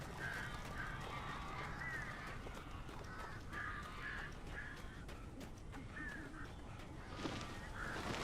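Crows cawing in the sky in Alan Wake Remastered, a scattering of harsh calls repeating over a dense, steady wash of ambient noise, moderately distant.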